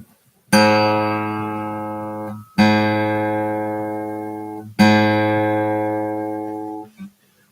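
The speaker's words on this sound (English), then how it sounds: "We have the A string, which is open, and it sounds like this." A guitar's open A string is plucked three times, each note ringing out clearly and decaying before the next pluck.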